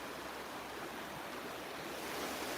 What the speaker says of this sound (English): This used to be a pretty big river